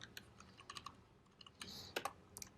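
Keys on a computer keyboard clatter faintly during coding, with irregular bursts of quick clicks and short pauses between them, quiet and close.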